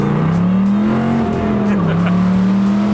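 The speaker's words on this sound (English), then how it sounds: "Let's see if we can smoke the tires a little bit." A Shelby GT500 engine holds a loud, steady droning rev under hard acceleration while trying to smoke the tires, its pitch rising, dipping briefly, then climbing again, close throughout.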